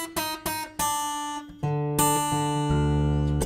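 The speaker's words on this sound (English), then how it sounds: "Same with your little E string, you'll loosen that. Normally sounds like this." An acoustic guitar's high E string in standard tuning, plucked several times in a row with clear ringing tones, followed by sustained chords, played alone and close.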